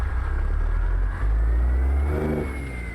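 A Jon Ruda 389 Glider truck in American Truck Simulator pulls away with its engine revving up, a steady close rumble that swells and climbs in pitch, heard alone without talk.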